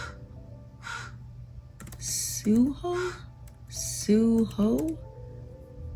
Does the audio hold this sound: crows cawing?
yes